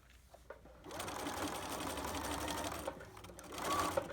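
A sewing machine stitches toward a reinforced pocket corner, running in a steady, close mechanical whir before easing off and briefly pausing.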